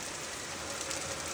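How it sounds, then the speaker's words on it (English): Heavy rain in a storm drumming on outdoor heat pump units, a dense, steady hiss that carries on without a break for the whole short stretch. "Look at that rain. Wow. You can hear it on the heat pumps."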